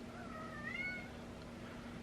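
A house cat gives a single rising meow, faint and fairly close, over a steady low hum in an otherwise quiet room.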